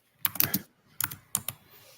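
Keys clack on a computer keyboard in short clusters of crisp taps separated by brief pauses, nearby and fairly quiet, with no talking.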